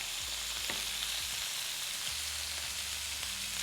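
Garlic butter steak bites searing in a hot pan: a loud, dense, continuous sizzle and crackle heard up close, steady for the whole stretch with faint low bumps beneath and no talking.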